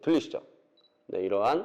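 A DSLR-style camera gives a short, faint, high focus-confirmation beep as its shutter button is pressed, sitting in a quiet gap between stretches of someone talking.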